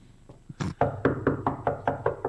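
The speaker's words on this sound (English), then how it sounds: "I think I hear someone knocking on your door." Knocking on a door as a sound effect: a short series of about eight firm, evenly paced raps, close and clear, with no talk over them.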